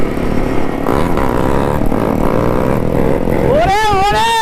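A motorcycle with a new exhaust revs hard while pulling a wheelie on a public road, engine note rising and wavering loudly, under excited talking.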